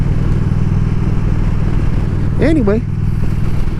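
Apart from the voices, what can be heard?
motorcycle being ridden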